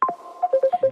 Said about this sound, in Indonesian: mohon maaf ada telepon masuk